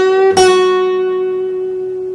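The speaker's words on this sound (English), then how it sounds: "you're going to play the 7th fret of your B string with a vibrato" A single guitar note on the seventh fret of the B string rings out clearly and sustains with vibrato, with a brief fret-hand shift just after the attack, fading slowly with no talking.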